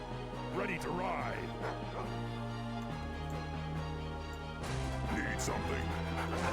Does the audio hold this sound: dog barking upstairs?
yes